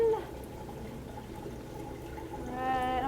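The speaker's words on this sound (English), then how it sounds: "So this is starting to fill a little bit." Water pouring into a Waterbox Frag 45.2 aquarium tank as it fills, a steady close gurgling flow with a skimmer running nearby, swelling in splashy intensity toward the end.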